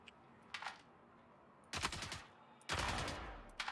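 Gunfire in Star Citizen comes as a brief shot followed by two sustained bursts of rapid automatic fire, fairly loud against a quiet background, with no talking.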